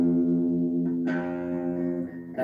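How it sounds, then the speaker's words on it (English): A single sustained electric guitar note, first fret on the low E string, rings out with effects-laden tone, a slight shift partway through, then fades as another sound begins. "play the first fret on the E string"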